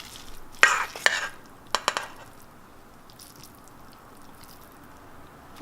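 Quinoa salad with feta and olives is scraped and moved into a bowl, with a few short clatters and scrapes of a utensil early on, then near quiet, and one more knock at the end.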